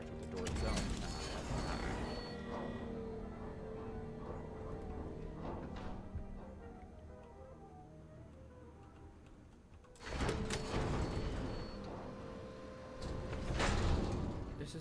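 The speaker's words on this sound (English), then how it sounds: "We have to pull this to open up that door, not just interact with the door itself." A door in the Starfield video game opens after a lever is pulled, sounding as a mechanical whir and slide, with a sharp, louder burst of sliding motion midway followed by a rising rumble near the end.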